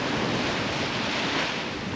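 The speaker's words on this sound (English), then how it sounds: "Our wind has finally filled in." Wind at sea aboard a Farr sailing yacht crossing the North Atlantic toward Greenland: a loud, steady rushing roar blended with wave wash, no voices.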